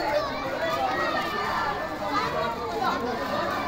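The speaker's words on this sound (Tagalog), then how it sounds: "Ayun, gulo-gulo ng mga bata na," Children shout and chatter noisily at a basketball league parade in Villa Crystal, a dense, continuous crowd of young voices with running footsteps throughout.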